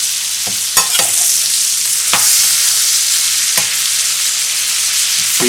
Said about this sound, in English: we fried them 1 minute aside, 1 minute per side first